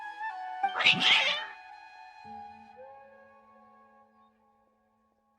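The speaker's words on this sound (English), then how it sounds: "Your cats seem pretty worked up." Several cats in the video game Genshin Impact meow and caterwaul in an agitated burst, loud and close near the start, then trail off into fainter tonal cries and near silence.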